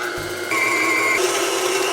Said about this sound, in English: So we're gonna grind our own meat.